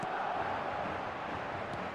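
A stadium crowd roars in a PES football video game on match day, a steady, distant wash of massed voices with no single sound standing out.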